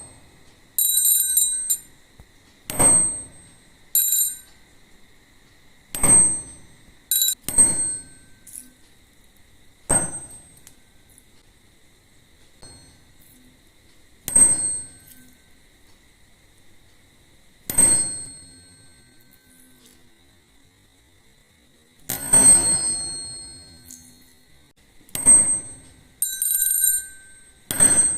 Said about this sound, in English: When I strike the tuning fork on the rubber pad,